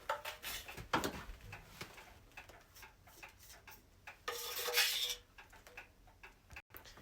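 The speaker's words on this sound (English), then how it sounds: "now I'm going to frost the cake" Butterscotch frosting spread on a cake with a small cake frosting knife, giving quiet repeated scraping and rubbing strokes, close and soft, with a louder rasping swipe near the end.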